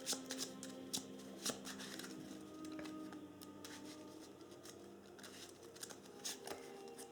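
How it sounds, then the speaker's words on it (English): Cards are drawn and handled during a Harry Potter tabletop card game: soft, faint papery flicks and light taps at an uneven rhythm over a quiet room hum. "She only draws back 4 cards though."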